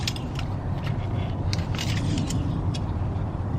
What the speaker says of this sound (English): so now we let the car run